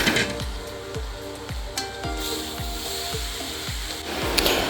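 Mixed vegetables cooking under a lid in a pan give off a steady low sizzle with a regular run of soft, dull knocks, close and moderately loud, with no talking.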